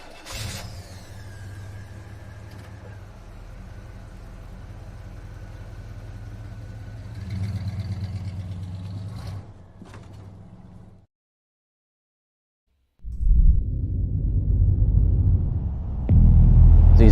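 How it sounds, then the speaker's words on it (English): Race car engines rumble and roar, a steady low drone building, then cutting to silence before a loud, deep engine burst returns near the end. "These cars are so violent."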